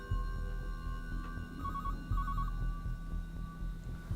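A telephone rings in a single two-part electronic trill pattern, moderately loud over a steady low hum and room noise, in an indoor domestic scene.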